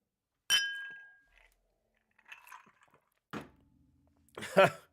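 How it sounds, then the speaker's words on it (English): Glasses clink in a toast, a bright short chime followed by a ringing tail, then scattered clinks and thumps as voices speak briefly. "I will drink to that, sir. Cheers."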